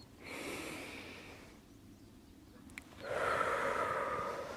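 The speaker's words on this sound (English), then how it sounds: "I'm going to take a deep breath in" A person draws a deep breath in while standing beside a horse. It comes as two breathy, hissing swells, the second louder and fuller, with no talk.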